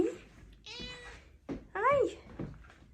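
A cat meows twice in a row, close and fairly loud, the second call longer and rising before it falls away, with faint room noise around it.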